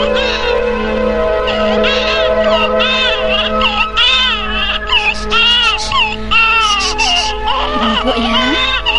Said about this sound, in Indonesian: Di pemondokan pengemis Ki Ageng Lindu terdengar tangis bayi.